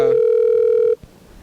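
A steady telephone line tone hums for just under a second while a call is placed, then cuts off abruptly, followed by a single soft click and quiet line noise.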